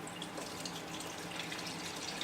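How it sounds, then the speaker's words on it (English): Cayenne tincture trickles through a strainer into a container, a soft, steady pouring splash with faint dripping, no voices. "We're going to pour through a strainer into the first container."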